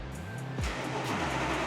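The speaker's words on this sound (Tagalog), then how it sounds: "So it's gonna start the car, it's gonna get loud" An Audi R8 engine firing up, a rising whine that settles into a steady, loud, close idle rumble.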